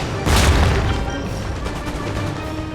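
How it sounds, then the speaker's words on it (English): Artillery fire in an Empire Total War battle: a loud, deep cannon boom lands early and rumbles on, followed by scattered crackling musket-like shots and a lingering low battlefield din. "Artillery fire from the flank."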